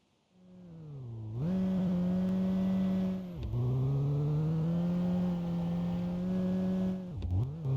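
A car on a dynamometer revs hard and is slammed into first gear, giving a loud, sustained engine drone that rises, dips sharply around three seconds in, resumes, and drops again near the end.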